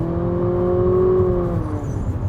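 A 2019 Infiniti QX50 with a 2.0 variable-compression turbo engine and CVT accelerates, its engine note holding a steady, loud drone that rises slightly in pitch before easing off.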